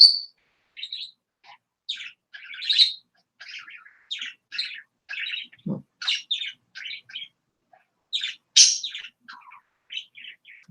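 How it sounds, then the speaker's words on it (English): Pet birds indoors chirping in a quick, rhythmic series of high tweets and short trills, clear and close against a silent background, with one lower call partway through. "My birds are kind of making a rhythm today."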